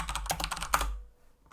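A short burst of rapid keystrokes on a computer keyboard, close and crisp, with a couple of sharper taps before it stops into near silence.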